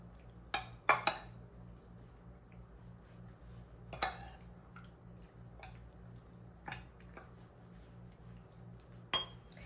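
Utensil scraping and clinking against a dish while macaroni and cheese ingredients are stirred together, a few sharp clinks spaced irregularly over a low, quiet background.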